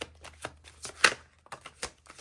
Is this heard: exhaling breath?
no